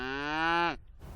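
A single long, loud cow moo on a Colorado ranch, held steady with rich harmonics before breaking off, followed by faint outdoor ambience.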